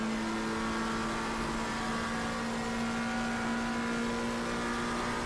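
A race car engine in a racing video game at Monza, with a steady, loud drone that holds a sustained hum throughout the clip. No one speaks over it.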